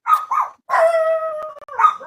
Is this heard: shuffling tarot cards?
no